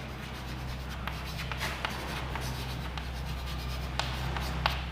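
Marker or chalk scraping on a classroom board in short rubbing strokes, soft and steady over a constant low hum, with no voices.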